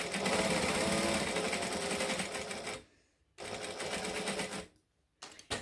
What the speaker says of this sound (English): I'm going to stitch these over the top of, like, stitch these on over the top of the piping